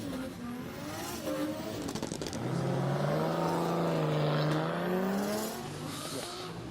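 Charles Chong's number 21 drift car sliding at a big angle at the Borneo Star Drift Series round, engine held high and wailing through a long sweeping pitch rise and fall, tires hissing, loud and steady with no voice over it.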